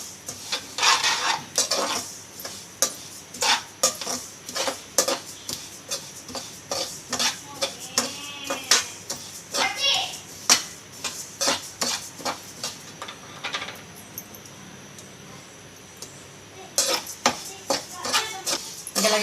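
Ingredients for chimili laddu being roasted in a pan and stirred with a metal spoon, giving repeated close scraping clinks against the pan with a soft sizzle underneath, pausing briefly before the stirring resumes.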